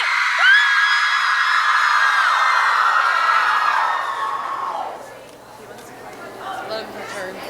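A large crowd of girls yelling, whooping and cheering at an evening assembly for the 2016 American Legion Auxiliary Rhododendron Girls State, loud and sustained, then fading into scattered shouts and chatter.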